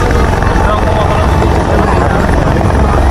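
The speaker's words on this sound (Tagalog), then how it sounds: "Ayan po yung dalawang helicopter na bumaba." Two helicopters come in to land at an irrigation project site in Cabarruan, Quirino, Isabela, their rotors a loud, steady, close roar and whine that fills everything without a break.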